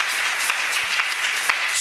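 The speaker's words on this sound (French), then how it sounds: "Je crois que tu allais acclamer très fort le Seigneur Jésus." A church congregation applauds for the Lord Jesus, a steady wash of many hands clapping at an even, moderate loudness, with a few sharper claps standing out.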